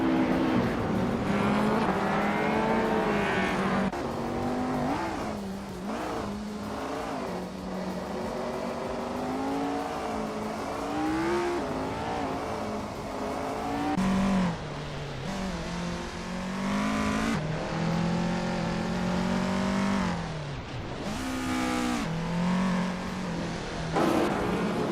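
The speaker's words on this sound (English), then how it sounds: "Adnan Flash is driving a Peugeot 205 T16 Evo 2, starting in 5th place." Peugeot 205 T16 Evo 2 race car engine in a racing video game, revving loudly and continuously with rising and falling pitch as it shifts gears, sustained engine roar throughout.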